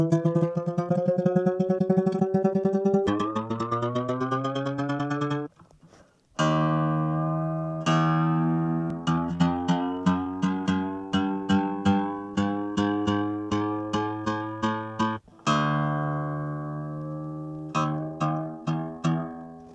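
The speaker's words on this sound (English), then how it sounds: "The B string is actually coming in on G, so we're going to tune that one up." Acoustic guitar B string plucked repeatedly while being tuned up from a much lower pitch, each ringing note sliding upward as the peg turns, with a brief gap midway and a run of short rhythmic plucks near and alone.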